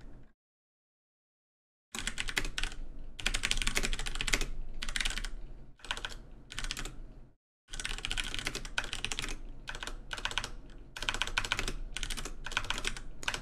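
Rapid bursts of computer keyboard typing during live editing of a story, close and clear, in uneven runs broken by short pauses and one longer silence near the start.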